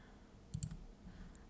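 A computer mouse gives a few faint, quick clicks close by, two together and then one more, while Cricut Design Space software is in use, over a low background hum.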